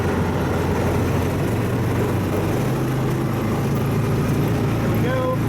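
A John Deere Gator HPX615E utility vehicle drives on gravel, its engine droning low and steady throughout with constant road and tire rumble, loud and close.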